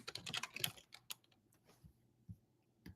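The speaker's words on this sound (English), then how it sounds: "Oof, my typing is a bit horrendous." Several quick bursts of computer keyboard typing up front, then a few isolated keystrokes and soft taps spaced out, close and fairly quiet.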